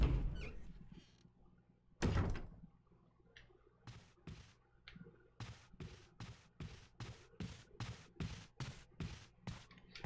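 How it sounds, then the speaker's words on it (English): In the video game Resident Evil HD, someone tries to break a door open: a sharp thud, then a series of rhythmic, fairly faint banging impacts about every half second, heard alone. "Definitely sounds like someone trying to break a door open."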